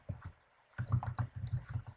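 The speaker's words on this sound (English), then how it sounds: "let me go ahead and just type it in here" Quiet typing on a computer keyboard: two taps, a short gap, then a steady run of soft clicks, close and faint, with no voices.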